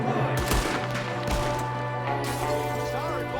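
A Cattleman revolver fires in Red Dead Redemption II: two sharp shots crack out over a constant bed of game music and ambience.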